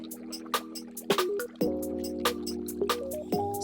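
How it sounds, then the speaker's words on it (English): Gentle trickling and dripping water sits in the background of a song, with soft liquid plinks and drips repeating over a quiet, steady musical bed. "Got this serene water running in the background."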